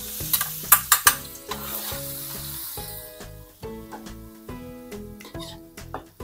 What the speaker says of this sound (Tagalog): Kapag mainit na yung mantika, ilagay na natin itong 2 ulo ng bawang.